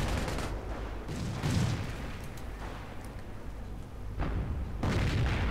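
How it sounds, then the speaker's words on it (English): Heavy bazooka hits slam into mechanized infantry in a city-outskirts battle in a strategy video game, dense booming blasts and rattling gunfire rolling continuously with bursts of louder impacts, no voices. "Huge hits by the penetrating bazookas on this mechanized infantry."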